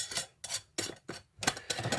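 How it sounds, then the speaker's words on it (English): Glass jars of homemade ghee have their lids twisted finger-tight and are set into a pressure cooker, giving five or six short, close clinks and scrapes of glass and metal in an uneven rhythm. "I'm just tightening these finger tight and placing them in the pressure cooker"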